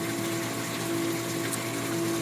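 A Bulk Reef Supply 150 gallon per day RO/DI unit running with a steady pump hum and constant rushing water flow, close and even with no pauses.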